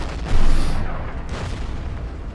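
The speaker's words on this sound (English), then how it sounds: "The artillery will fire on enemy infantry incoming there." Artillery in the Order of Battle wartime strategy video game fires on enemy infantry: one loud, deep boom that rolls off into a long, rumbling decay, heard alone without talk.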